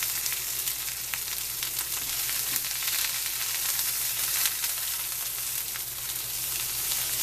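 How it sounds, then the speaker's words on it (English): Chorizo fries in a hot cast iron pan with a loud, continuous sizzle and dense crackling splatter up close, no one speaking. "Now we're going to start with the chorizo. You're going to hear a lot of splatter here."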